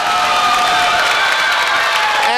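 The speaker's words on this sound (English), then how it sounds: "They are showing love for Skye Blue here in the Bronx." A wrestling crowd in the Bronx cheers loudly and steadily at a mixed tag match, a continuous roar of voices and whoops filling the whole moment without letting up.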